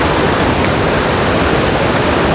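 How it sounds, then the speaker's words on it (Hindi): Sissu waterfall in the mountains pours down in a loud, steady, broadband roar of falling water, unbroken and close, with no talking. "ऊपर से वाटरफॉल गिर रहा है ना"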